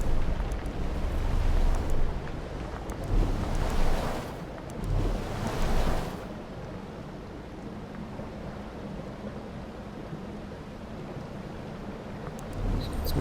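Ocean waves in the video game Outer Wilds crash in loud rushing surges over the first few seconds, then settle into a quieter steady wash of water and wind.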